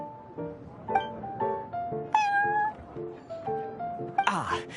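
A cat meows repeatedly inside the Cat's Tail in the video game Genshin Impact, a series of clear, close meows in quick succession, ending in a louder, strained caterwaul.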